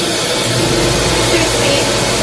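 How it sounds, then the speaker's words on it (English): A Canine 2 pet dryer mounted low in a van runs on its first speed, giving a steady, loud broadband whoosh with a low motor hum that holds even throughout. "this van has a Canine 2 dryer down here. I'm gonna turn this on briefly just to show you that it works."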